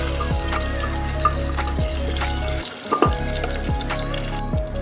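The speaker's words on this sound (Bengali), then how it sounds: "তারপর দিয়ে দেবো ছোট ছোট করে কাটা আলুটা একটু ভেজে দেবো।" Small chopped potatoes fry in oil with tempered whole spices for a Bengali chickpea dal, a loud, close, continuous sizzle with a brief dip and a few stirring scrapes, no talking.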